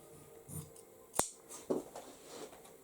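Scissors snip through fabric for a handmade textile book page, a few separate crisp cuts with one sharp, loud snip in the middle and softer rustling around it, no talk.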